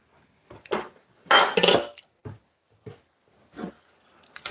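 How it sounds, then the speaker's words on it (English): Kitchen knife being washed, sparse clinks and knocks of metal against a sink or dishes, with one louder burst of clattering and splashing, close and otherwise quiet. "let me just wash my knife off a bit"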